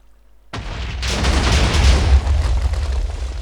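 TNT blows up in the Minecraft game with a sudden loud blast, followed by a sustained rumbling roar of overlapping explosions that keeps going to the end.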